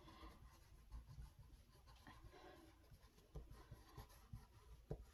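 A crayon scribbles on paper during a Gelli plate crayon-resist session, a faint, steady scratching with a few soft taps and no talk.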